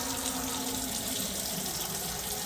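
Acidic water pours out of jars of peaches in a continuous, steady splashing rush, close and unbroken for a few seconds.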